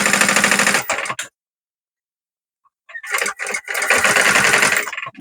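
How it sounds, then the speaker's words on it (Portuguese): A sewing machine stitches the side seam of a small zippered fabric pouch in two rapid, close bursts, separated by a pause of about a second and a half of silence. "E agora eu costuro aqui do lado."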